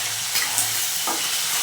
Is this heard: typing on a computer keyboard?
no